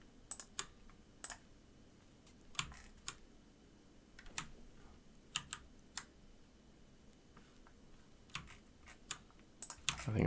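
Computer keyboard being typed on at a desk during texture editing work, with scattered sharp key clicks and short bursts at an irregular rhythm, close and moderately quiet, no voices.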